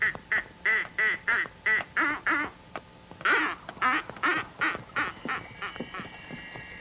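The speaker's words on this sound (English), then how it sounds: "none of them noticed that a duckling was following them" A duckling quacks in a rapid series of about a dozen close, bright calls, briefly pausing and then resuming with a few more, heard alone without speech.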